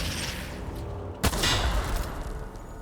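An N-ray weapon fires at enemies in The Outer Worlds video game, a sharp burst cutting through a loud, dense wash of ongoing game noise, followed by a brief rumbling tail.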